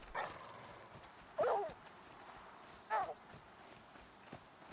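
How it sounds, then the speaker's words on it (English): A dog in the survival game The Flame in the Flood gives a few short, sharp barks, spaced about a second and a half apart, fairly faint over a soft background hiss. "Dog, shut up."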